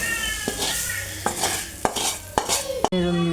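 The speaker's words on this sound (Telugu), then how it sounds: "స్టవ్ ఆఫ్ చేసేసుకొని ఇది బౌల్లోనికి వేసుకుంటున్నాను." Metal spoon scraping and tapping against a pan as broad bean fry is transferred into a bowl, several sharp clinks spaced through the clip over a busy kitchen background, ending with a brief steady hum.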